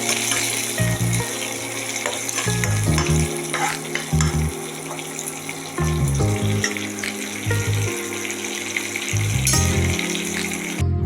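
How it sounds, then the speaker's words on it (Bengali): Curry leaves frying in a wok make a continuous crackling sizzle, with steady background music playing underneath. "এবার আমি কড়াইতে কতগুলো কারি পাতা দিয়ে দেবো।"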